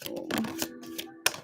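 Tarot cards being shuffled up close, a run of crisp papery riffles and taps with sharp card snaps, the last one loud near the end.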